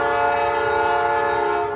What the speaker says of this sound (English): There's a train rolling by right behind the cemetery here.